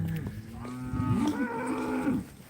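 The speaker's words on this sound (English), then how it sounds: "we got one cow in particular here we call Goofy" A cow bellows a long, wavering moo during a fall cattle gather on a home ranch, loud and close, with a brief lower grunt before it and no voices over it.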